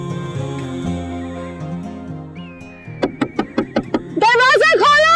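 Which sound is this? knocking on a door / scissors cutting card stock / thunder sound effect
knocking on a door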